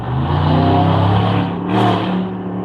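A car engine revs loud and steady throughout, its tone rising and falling briefly near the end, with no voices.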